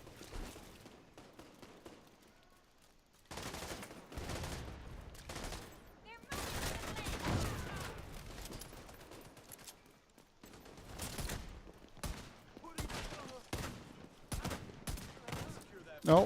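Gunfire in The Division 2 cracks out in repeated bursts and single shots, loud and close, with short pauses between volleys and a final sharp shot at the end.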